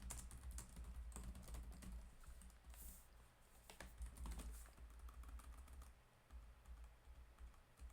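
Quiet, rapid clicking on a computer keyboard as C++ code is typed during a programming lecture, with irregular bursts of keystrokes and brief pauses, close and soft against a low background hum.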